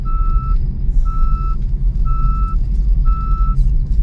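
Car seatbelt warning chimes in a fast-moving car, four evenly spaced tonal beeps about a second apart, sounding over a loud steady road rumble inside the cabin.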